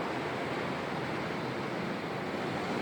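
Waves roll in as a continuous soft roar of surf, even and fairly faint, with a little wind mixed in and no one speaking.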